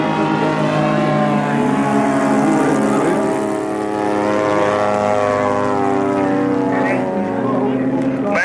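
A model Blériot airplane's engine drones steadily and loudly at a model airplane competition as it comes in to land, its pitch gradually shifting while voices talk over it.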